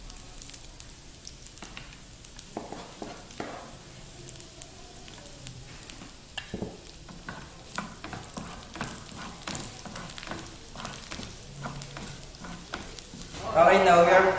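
Garlic sizzling and frying in a pan, with soft crackles and occasional stirring scrapes throughout, building to a louder burst of sizzle near the end.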